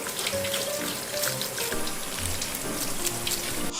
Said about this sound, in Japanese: 血を洗い流していきます。